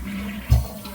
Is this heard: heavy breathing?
no